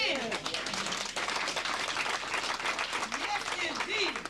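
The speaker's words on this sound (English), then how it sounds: "Give yourselves a hand." A live audience applauds at a Kangen Water demonstration event, dense sustained clapping filling the whole stretch with crowd noise, loud and continuous, with a voice audible over it.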